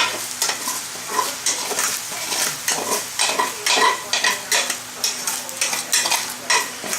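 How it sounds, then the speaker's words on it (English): A spoon or spatula stirs pork fried rice with vegetables in a hot, sizzling pan, giving steady rhythmic scraping and clinking strokes over a continuous fry hiss, with no talking. "I'm going to mix it up with the vegetables so it gets all incorporated"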